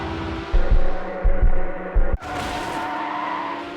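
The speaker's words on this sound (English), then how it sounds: "Guess we lost a headlight hitting that tree." Race car in Need for Speed Hot Pursuit 2 crashing into a tree: a revving engine drone pulses in bursts, then a sudden sharp impact crunch cuts in, followed by a steady engine hum and rushing noise.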